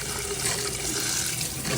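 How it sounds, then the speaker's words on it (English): A kitchen sink's cold tap runs steadily right after a new whole-house water filter is fitted, a constant close hiss and splash of water with no breaks or voices. "Okay, turning on the sink."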